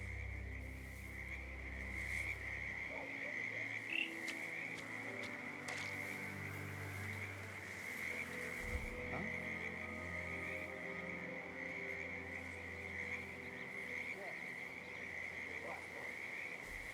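Frogs croak by a creek in the Hitman video game, a steady chorus of repeated calls over a constant high insect-like drone and low ambient hum, with no speech.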